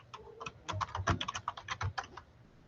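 Quick bursts of keys clattering on a computer keyboard as a web link is typed, a close, irregular run of about a dozen taps with short pauses and no talking.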